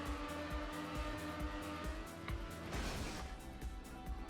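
A car in the Trackmania racing game accelerates at full speed, a loud steady engine drone with rising pitch, repeated rhythmic pulses and a brief tire-like hiss, continuous and close throughout.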